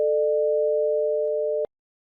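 Two steady pure tones, 440 Hz and 600 Hz, sound together as one sustained chord for about a second and a half, then cut off abruptly, with faint clicks in the background.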